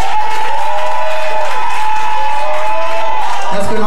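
A church congregation cheers and applauds for the Lord, a loud continuous wash of clapping and shouting with a sustained musical tone ringing through it.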